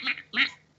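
A human voice imitates a mouse squeaking angrily with two short, nasal, quacking squeaks in quick succession, close and fairly loud.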